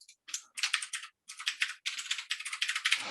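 Rapid typing on a computer keyboard while coding in Swift, crisp clicky keystrokes in quick bursts separated by brief pauses, close and clear with no talking.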